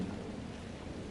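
Stormy ambience from the Dragon Age Inquisition game, a steady low rumble of thunder with rain hiss, distant and fairly quiet, with no voices.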